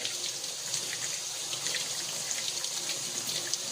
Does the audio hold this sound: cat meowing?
no